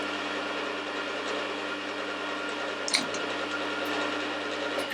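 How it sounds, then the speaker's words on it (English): Geared milling machine head driving its down feed, a steady mechanical whir with even gear hum, a brief clack near the middle, running alone without talk. "You see the gears operate the down feed. As I engage it on this, the feed goes on."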